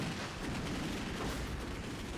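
Machine gun fire from the video game Toy Commander rattles as a dense, continuous, loud stream of rapid shots, mixed with game noise and no pauses.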